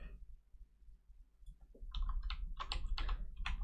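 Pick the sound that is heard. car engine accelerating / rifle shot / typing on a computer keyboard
typing on a computer keyboard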